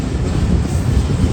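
Train approaching Rahim Yar Khan railway station in Pakistan in the evening, a steady low rumble and rolling clatter with wind buffeting, continuous and loud, with no voices.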